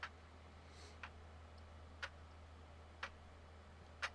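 A clock ticks in a visual novel game scene, five sharp evenly spaced ticks about one second apart over a steady low hum, with no voices.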